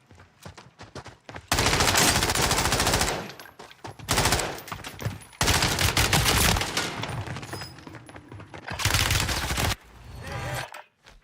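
Rapid automatic rifle fire from a 20-round magazine in a video game, loud sustained bursts broken by short pauses and single shots between them, close and dominant.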